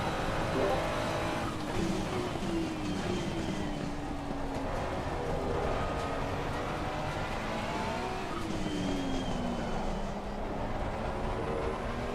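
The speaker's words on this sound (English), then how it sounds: "Why does it over-rev the engine?" Race car engine in Assetto Corsa Competizione during an endurance race at Silverstone, a steady buzzing whine whose pitch rises and falls as it revs, held high at times, at moderate level with faint background talk.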